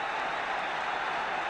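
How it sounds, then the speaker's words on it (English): Football crowd at a 1975 Aston Villa match roaring after a goal, a dense, sustained wall of cheering and applause filling the stadium without letup. "Tremendous excitement in this crowd"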